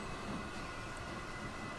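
A Duchess steam locomotive passing in the Transport Fever 2 game, heard as a steady rolling rumble and rattle of the train that holds level for about two seconds, with no talk over it.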